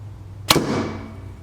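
An arrow is loosed from a PSE Evo EVL 32 compound bow, a single sharp, close snap of the string and thump, then a fading whoosh as it flies off, against quiet outdoor background.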